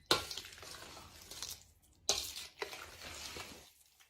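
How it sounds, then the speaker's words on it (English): A spoon clumps and stirs Thanksgiving bread dressing in a bowl, making close, soft scraping and mushy mixing sounds in two uneven bursts with a brief pause between them. "now I'm going to use the side of my spoon to kind of clump around in there a little bit"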